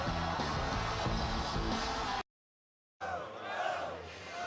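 Stadium crowd at an Oklahoma football game in Norman, a loud continuous roar and cheer with band-like rhythmic pulses, cut by a brief dropout before the crowd noise returns.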